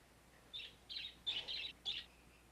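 A pet bird named Butchie chirps in a short run of bright, high tweets, four or five quick bursts spaced across a couple of seconds, fairly close and clear over a quiet room.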